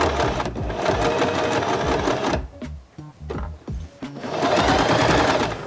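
A sewing machine stitches a jeans repair in rapid, continuous mechanical bursts, stopping briefly for a few separate clacks before running fast again, loud and close.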